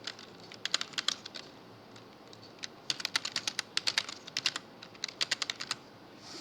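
Fingers type code on a computer keyboard in quick, irregular bursts of soft, close key clicks, with short pauses between flurries in an otherwise quiet room.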